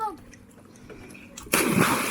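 A child steps into pool or bath water, a few soft sloshes giving way to a sudden loud splash at the end, close by, with no talking over the splash.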